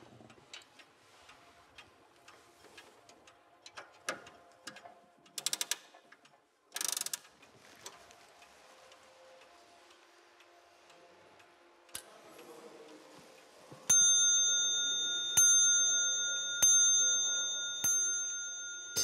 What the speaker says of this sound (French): Il doit remonter dans la matinée près de 80 pendules et horloges.